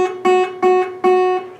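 A single guitar note at the 2nd fret of the high E string, plucked three times in a steady rhythm, each a bright, close, cleanly sustained tone.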